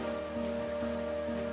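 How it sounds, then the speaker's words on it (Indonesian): Steady rain falls in Minecraft, a continuous even hiss of drops on surfaces, with a sustained low tonal drone running beneath it. "sekarang malah mulai hujan."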